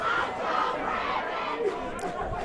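High school football crowd at homecoming night at Lakeview cheering after a big play, a dense steady roar of many voices shouting and chattering throughout.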